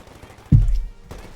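MG42 machine gun firing in Company of Heroes 2, a single sudden loud burst of rapid rounds that decays within a fraction of a second, with faint battlefield noise around it.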